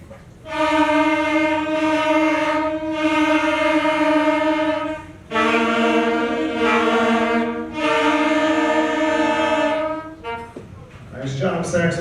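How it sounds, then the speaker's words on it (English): A fifth grade band's saxophone section sounds the note C together, two sustained rich reed tones of a few seconds each with a short break between, loud and steady, ending in faint stage noise. "Saxophones are going to demonstrate the note C to them."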